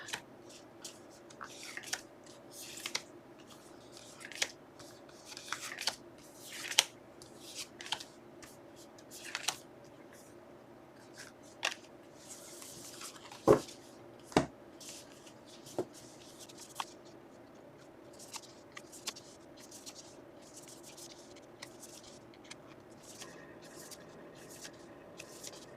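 Tarot cards shuffled and drawn, giving repeated soft flicking and snapping bursts at an uneven pace, close and fairly quiet, with a couple of sharper card slaps partway through.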